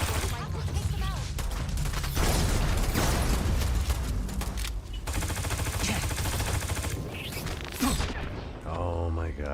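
Rapid automatic gunfire in the video game Starfield, dense bursts of loud shots with mechanical clatter and a brief explosive crash, a voice talking over parts of it.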